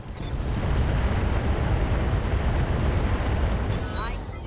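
Heavy weapons firing in the RogueTech BattleTech mech game: a dense, continuous roaring barrage of explosions and booms, loud and unbroken throughout, with a few metallic tones near the end.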